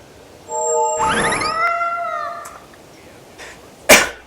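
Cat meows from the video game Tales of Berseria, a pair of short tonal mews followed by a longer drawn-out meow, then a sharp chime-like hit at the end, all close and clear with no talking.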